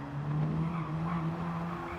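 A Mazda RX-7 in a racing video game brakes hard and downshifts, a sustained tonal tire squeal over engine drone, steady and moderately loud throughout with no talk.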